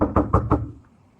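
Four firm knocks land on a door in quick, slightly uneven succession, close and loud, then stop and leave a short quiet tail.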